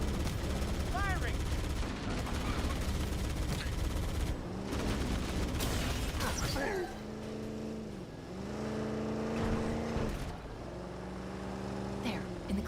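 Gunfire in the Halo video game, rapid automatic bursts mixed with loud game music and effects, with speech from players over the action.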